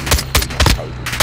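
Gunfire in Modern Warfare 2 comes as several sharp, loud bursts of shots at irregular spacing, up close and with no talking.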